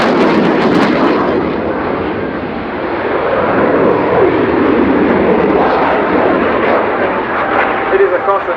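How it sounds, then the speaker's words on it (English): A jet aircraft pulls a continuous maximum-performance vertical loop at the RIAT 2019 air show, its loud, broad engine roar sustained and steady overhead throughout, swelling slightly near the end. "It is a constant turn at the maximum performance of the aircraft"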